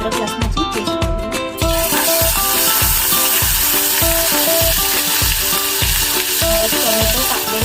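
Ginger garlic paste sizzles and spits loudly in a pan of hot oil, a steady close-up fry with no pauses, and a brief clatter of stirring comes first.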